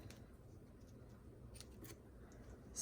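Scissors snip excess ribbon off at an angle during paper-and-ribbon stamping craft work, a few faint crisp cuts over a steady low background hiss.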